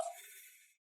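A single sharp hit to the face lands at once and fades in a short ringing tail, loud and alone with no talk.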